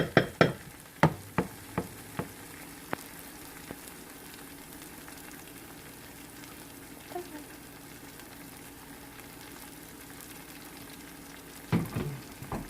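Sauce for a paneer curry fries in a pan with a soft, steady sizzle, opened by a run of sharp clattering knocks, with another clatter near the end.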